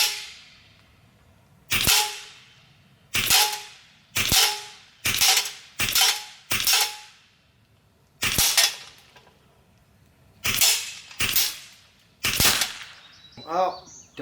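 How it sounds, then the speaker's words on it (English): ARES Huben GK1 .25 caliber airgun pellets strike a steel auto-reset target, giving about a dozen sharp metallic smacks with ringing decay, irregularly spaced and close by. Muffled movement and faint background noise fill the gaps between hits. "I needed to smack some steel on my prototype auto reset target"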